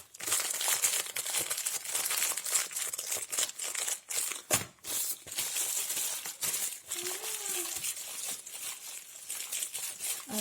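Parcel packaging crinkling and rustling as two delivered boxes are unwrapped and opened, a dense, continuous close-up crackle with sharp tearing snaps and brief pauses throughout.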